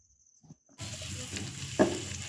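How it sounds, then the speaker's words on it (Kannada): Finely chopped coconut and cashews frying in ghee, a steady close sizzle with stirring and a brief clatter near the end, following a moment of near quiet. "ಸಣ್ಣದಾಗಿ ಹೆಚ್ಚಿಟ್ಕೊಂಡಂತಹ ತೆಂಗಿನಕಾಯಿ ಮತ್ತು ಗೋಡಂಬಿ ಇದನ್ನು ತುಪ್ಪದಲ್ಲಿ ಹಾಕಿ ನಾವು ಚೆನ್ನಾಗಿ ಹುರ್ಕೋಬೇಕು."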